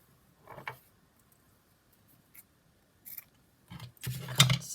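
Scissors snipping lace trim for a handmade Christmas card, a few short crisp cuts separated by pauses, the last one louder and closer.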